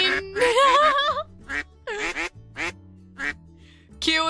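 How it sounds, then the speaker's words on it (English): A cartoonish duck in an otome video game quacks loudly and repeatedly in short bursts with brief pauses, some quacks drawn out and others clipped. "Cue in another duck attack."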